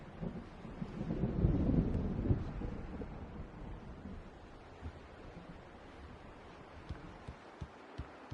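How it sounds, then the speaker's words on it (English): In Alan Wake Remastered, a deep thunder rumble swells and rolls through the first few seconds of an approaching storm, then fades into a windy, surf-like wash with scattered faint ticks. "The storm is almost here."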